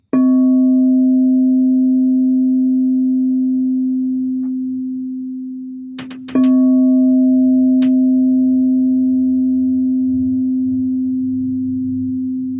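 A Crystal Tones crystal singing bowl rings out the note C as a loud, pure sustained tone that slowly fades, with a brief knock partway through before the ringing resumes.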